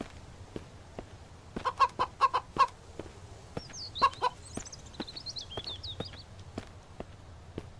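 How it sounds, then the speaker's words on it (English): A chicken in the survival game Mist Survival clucks in quick bursts over a low ambient hum, alongside soft footstep-like taps and a brief high chirp. "There's a bulletproof chicken."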